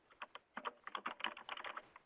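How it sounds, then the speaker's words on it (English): Rapid, uneven keystrokes on a computer keyboard while a name is entered into client software, close and fairly crisp, clustered in short bursts with brief pauses and no talking. "I'm going to type in a name"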